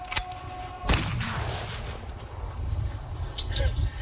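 A gunshot fired in a played video: one loud, sharp crack just before the one-second mark, then a rolling, decaying rumble over steady background noise, with a fainter earlier pop.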